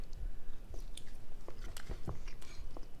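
Close, wet bites and chewing of tender smoked chuck roast, a few soft squishy chomps spread over a few seconds with no talking.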